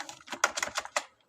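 Keys tapped on a computer keyboard while text is entered into an Excel sheet, a quick irregular run of about a dozen close, crisp clicks with a short pause near the end.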